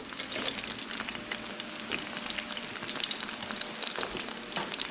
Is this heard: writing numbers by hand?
no